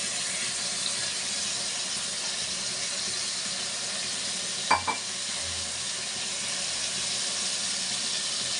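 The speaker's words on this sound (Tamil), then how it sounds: "அதே மாதிரி வறுக்கிறோம்." Ingredients for biryani frying in a pan give a steady, close hiss of sizzling, with a couple of sharp clinks midway; no one speaks.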